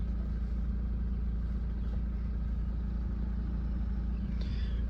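A four-wheel drive vehicle drives an off-road track, its engine holding a steady, droning hum over constant low rumble throughout, with no voices.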